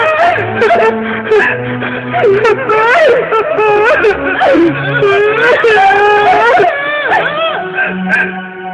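A person cries and wails loudly up close in long, wavering sobbing moans that rise and fall continuously, with a lower voice and background sounds underneath.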